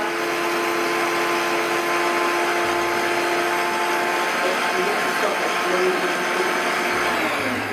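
A blender blade purees strawberry and watermelon granita at minimum speed, making a loud, steady whirring drone that runs unbroken throughout.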